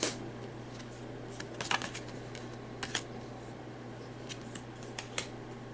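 Cards being drawn and handled during a Marvel Champions game: scattered crisp flicks and snaps, a few sharper clustered ones, close and fairly quiet over a steady low hum, no talking.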